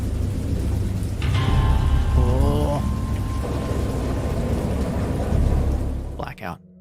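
A heavy storm in the horror game Dagon, with dense rain drumming on surfaces and deep rolling thunder rumbling throughout, loud and close; a voice briefly exclaims near the end as the sound cuts off.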